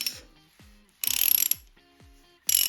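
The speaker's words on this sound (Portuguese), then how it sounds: "Então aqui agora eu vou soltar esse parafuso, os dois lados" A ratchet loosening the suspension bolts on a bike's front fork, two bursts of rapid close clicking separated by quiet pauses with small metallic knocks.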